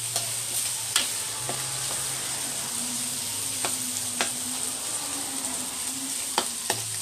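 Pork fries in its own rendered fat in a Thai village kitchen in Isan, a steady bright sizzle with occasional ticks and scrapes from stirring.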